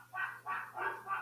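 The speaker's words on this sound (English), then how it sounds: "What's your dog doing?" A dog gives four quick, faint barks in an even rhythm, somewhat distant in a quiet room.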